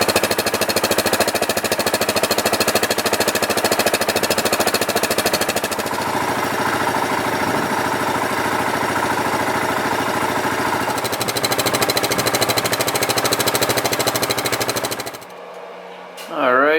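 A 2017 Yamaha Grizzly 700 ATV engine runs at a steady, loud, rattling idle close by, holding an even putter throughout before dropping off near the end.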